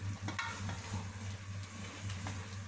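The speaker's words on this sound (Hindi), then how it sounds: "2-3 सेकंड के लिए ज़रा भून लेते हैं ताकि इसका ऑयल अच्छे से सेपरेट हो जाए" Cluster beans and meat sizzle and crackle steadily in hot oil, a close, continuous frying hiss with occasional stirring scrapes.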